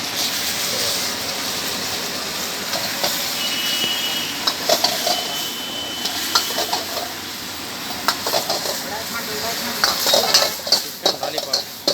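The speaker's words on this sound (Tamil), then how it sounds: "சிக்கன் லாலிபாப் பா எப்படி கிண்டுறாருன்னு பாருங்கள்" Chicken lollipops being stirred in masala while frying, with a steady sizzle and repeated scrapes and clinks of a utensil against the pan, close and fairly loud, no talk.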